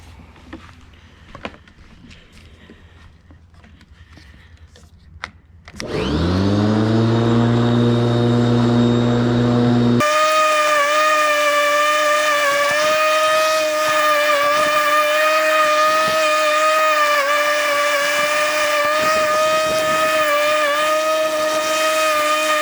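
A Ryobi corded electric lawn mower starts after a few quiet clicks and spins up to a loud, steady whine with strong tonal hum, running continuously up close for the rest of the clip.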